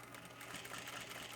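A sewing machine fitted with a narrow hinged foot runs a short burst of back stitching and then forward again, a steady close mechanical whir lasting under two seconds with no talking.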